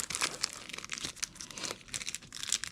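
A motorcycle visor for a Shoei RF-1400 helmet being ripped out of its plastic packaging, heard as close, crisp crinkling and tearing of plastic in uneven bursts, with no talking.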